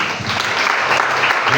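A church congregation applauding during a French-language sermon, a dense, sustained wash of clapping from many hands filling the room, with a few voices mixed in.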